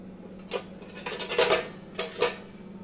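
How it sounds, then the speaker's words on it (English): A pan being heated on the stove in a chef's kitchen, with a few clinking metal and dish knocks over a steady low kitchen hum. "get my pan a little bit hot. Put a little bit of oil."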